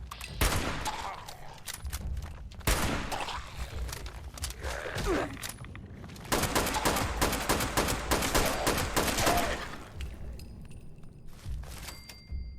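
Rapid automatic gunfire from a powerful gun in Fallout 76, long dense volleys of close, loud shots broken by short pauses, with faint game ambience between bursts and no talk.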